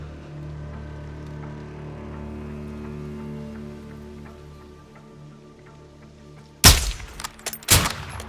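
Suppressed rifle shots crack twice in Call of Duty: Modern Warfare 2, two sharp close bursts following several seconds of low ambient rumble and rain-like background noise.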